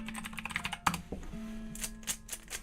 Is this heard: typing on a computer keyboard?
yes